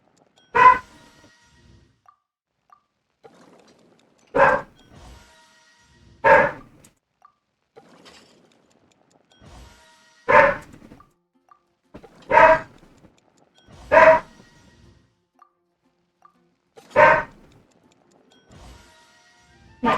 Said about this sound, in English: My dog is being so loud